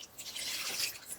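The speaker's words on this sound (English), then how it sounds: "Oh, I need to put some more water" Water poured into a pan of eggplant and potato curry coated with spices, a brief splashing pour with dripping, fairly close and alone.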